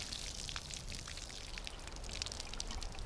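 Water pours steadily onto newly planted trees, a continuous splashing trickle with soft patter, close and fairly quiet, with no voices.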